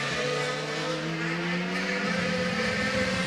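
Paul di Resta's DTM race car at Brands Hatch, engine note rising steadily through the gears in a continuous loud whine as it accelerates, with faint commentary mixed beneath.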